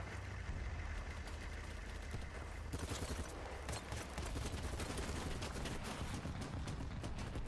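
Sustained gunfire from a Battlefield-style shooter video game, with dense bursts of shots throughout that grow busier partway through, loud and continuous with no one talking.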